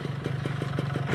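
A motorcycle-like engine runs at a rapid, steady pulsing throb, revved close by in a short continuous burst.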